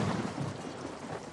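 Rain with distant thunder in Nuremberg, a soft continuous rumbling wash of falling rain, faint and brief with no voices.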